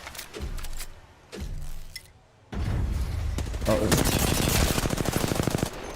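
Rapid automatic gunfire from Apex Legends, with dense bursts of shots that start and stop, then a long sustained stretch of fast rattling fire mixed with game effects.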